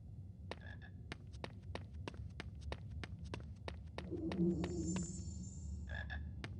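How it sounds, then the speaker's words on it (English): Frog croaks from the Harry Potter and the Philosopher's Stone PC game sound twice over low ambience, joined by a quick run of sharp tapping footsteps and a brief tonal chime. "I hear a frog."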